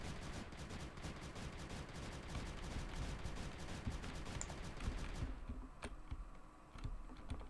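Rapid gunfire from a gun in the video game Creeper World 3, a fast rattling stream of shots that stops abruptly partway through, leaving sparse isolated pops.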